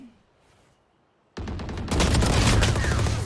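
Gunfire from the video game Valorant starts after a quiet lull as a sudden burst of rapid shots, then grows into louder, denser firing with sharp repeated cracks.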